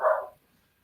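A single dog bark, loud and close, one short burst fading quickly into near silence.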